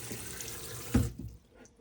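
Water runs from a tap in a Burstner Nexxo T660 motorhome, a soft hiss that bursts briefly louder and then cuts off into near silence.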